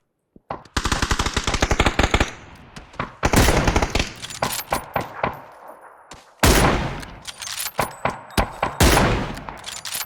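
Automatic gunfire in the battle-royale game PUBG rattles out in long rapid bursts broken by short pauses. It is loud and close, and a few single shots and sharp cracks fall between the bursts.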